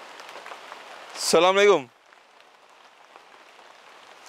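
Rain falling steadily outdoors, a soft, faint, even patter throughout, briefly covered by a single spoken greeting.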